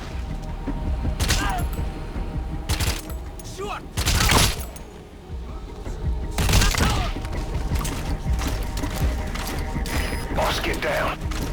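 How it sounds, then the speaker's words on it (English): Gunfire in the video game Metal Gear Solid V: The Phantom Pain, several sharp loud bursts of shots and mechanical clatter spaced through steady game ambience, near and punchy. "Стрельба. Позиция стрелка неизвестна."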